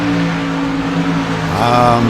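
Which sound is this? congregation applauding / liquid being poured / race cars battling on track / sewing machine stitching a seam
race cars battling on track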